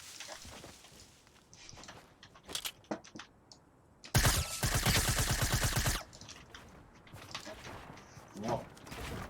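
Rapid bursts of Fortnite video game gunfire, a loud sustained volley of automatic shots in the middle, with scattered single shots and game sounds before and after.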